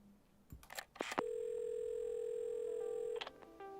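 A steady telephone dial tone holds for about two seconds after a few clicks and handling noises of a receiver being lifted, then cuts off, in the game Assemble with Care.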